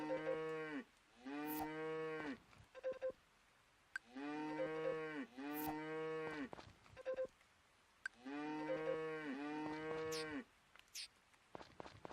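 A cow on a farm moos in three long, drawn-out calls. Each call is loud and close and has a couple of bellowing pulses, with short quiet gaps between them.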